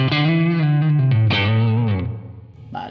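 Electric guitar played through a Blackstar St. James amp plugin with added bass gives loud, sustained, distorted notes sliding between pitches over a few seconds, then a brief fresh pluck at the end.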